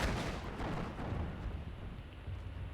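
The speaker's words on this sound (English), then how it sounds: "the artillery is going for Rosita now" Artillery fire in the wargame Steel Division 2, a dense continuous low rumble of distant shelling and explosions rolling steadily throughout, with no voices.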